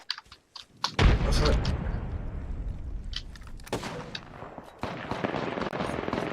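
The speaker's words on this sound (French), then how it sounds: "Quelqu'un me tire dessus" Apex Legends gunfire erupts as a heavy blast followed by a sustained rumble and repeated sharp shots, with a few short, near bursts scattered throughout.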